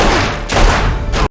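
Gunfire in an Agents of S.H.I.E.L.D. scene, a loud burst of several rapid shots that pauses and then comes back in a second volley. No one speaks over it.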